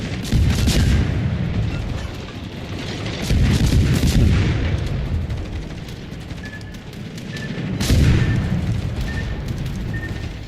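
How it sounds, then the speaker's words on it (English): In World of Warships, battleship shells explode on an island in three deep, rolling booms spaced a few seconds apart. The crashes are loud and heavy, with a rumbling tail under each, and no one speaks. "He keeps trying to hit me, but I can literally see his shells exploding on the island."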